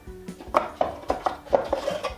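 Wooden tea boxes lifted out of a larger handmade wooden box, giving a run of sharp hollow clacks and knocks at an irregular pace, close and fairly loud, with no talking.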